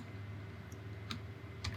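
Scattered keystrokes on a computer keyboard while a file is typed up in a text editor, a few sharp clicks spaced irregularly over a steady low hum.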